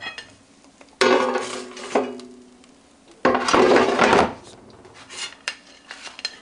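Cooked fish being lifted from a Cuisinart 4.5-quart basket air fryer onto a plate, with sharp scraping and clattering of the basket and utensil in two loud bursts, then lighter knocks.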